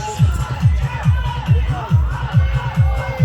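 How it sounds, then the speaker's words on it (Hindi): DJ music booming loudly with a steady, thumping bass beat while a crowd gathers at what may be a wedding or a wrestling event, pulses repeating every half second or so under a busy wash of crowd noise. "आप ये देख रहे हो डीजे बज रहा है और लोगों की भीड़ लगी हुई है।"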